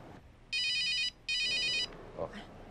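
Mobile phone ringing in a home with two bursts of a bright electronic ringtone, a short pause between them. It is fairly loud and close and stops before a brief voice is heard.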